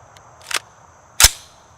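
Two sharp, separate gunshots from an AR rifle built from Anderson components, fired outdoors during a magazine dump. They are loud, with a short gap between them and brief ringing tails.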